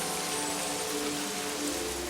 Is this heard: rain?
yes